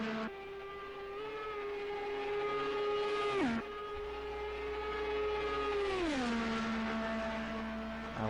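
An Indy 500 race car roars past at speed on a warm-up lap, a loud sustained engine note that holds steady, drops sharply as it passes, then climbs and falls again in a long swooping pitch change.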